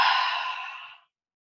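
A person breathes out hard through a wide-open mouth during a breathing exercise: one long, loud, airy exhale that fades over about a second, then silence.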